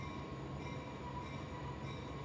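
A slow-moving train passing nearby, a steady low rumble with a faint hum and metallic tones, constant and moderately loud without talk.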